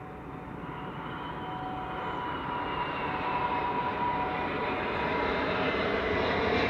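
A large airliner approaching to land on runway 06 at Amsterdam Schiphol gives a continuous jet roar that swells gradually as it nears, heard alone with no talk.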